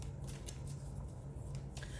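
A Nature Spirit oracle card deck is shuffled, producing quiet papery riffles and flicks in short bursts over a faint low hum, close and soft.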